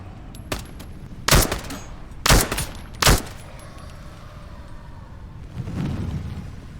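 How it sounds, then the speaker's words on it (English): Three loud, sharp gunshots ring out in the VR shooter game Into the Radius 2, evenly spaced about a second apart over a low ambient rumble, followed by a softer distant thud. "Shots might have drawn other enemies."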